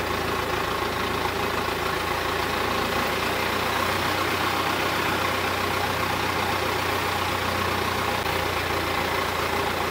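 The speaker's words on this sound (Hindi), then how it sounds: "मोटर बोट लेने का एक नुकसान है कि इसमें शोर बहुत है" A motor boat engine runs steadily at Damnoen Saduak floating market, a loud, continuous droning hum with no pauses or talk.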